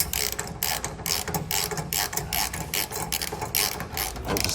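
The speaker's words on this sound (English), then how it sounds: "now I'm going to get the ratchet and tighten down more" A hand ratchet tightens an anti-rattle hitch pin for a 2-inch trailer hitch, giving a steady run of close, loud metallic clicks without pause.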